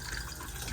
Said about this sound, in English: Once you've used the toilet, give it a flush.